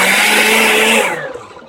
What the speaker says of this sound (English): going to hit stop and then just go forward on medium to get it kind of blended